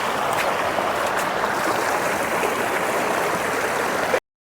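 Steady rushing river water at a mountain crossing, a continuous close broadband flow with no break until it cuts off abruptly.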